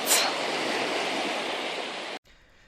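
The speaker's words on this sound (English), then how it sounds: "That's when the waves go back out to sea." Sea waves wash onto a wide, flat beach in a steady, loud hiss of surf that cuts off abruptly near the end.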